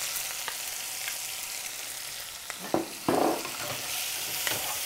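Shredded mango and shredded ginger are stirred in a sizzling pan, with a steady frying hiss under a few scraping stir strokes and two louder clattering bursts near the end.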